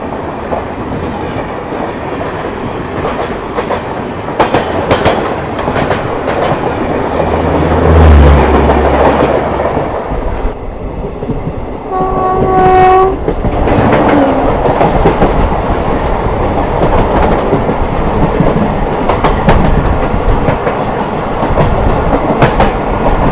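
The Humsafar Express overtaking the Digha Express, a continuous rumble and clickety-clack of rail wheels close by, with a brief horn-like tonal blast midway.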